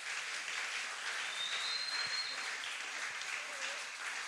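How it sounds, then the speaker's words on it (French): A church congregation applauds to acclaim the Lord, a steady wash of many hands clapping together that is fairly faint and unbroken throughout. "Est-ce qu'on peut encore acclamer le Seigneur?"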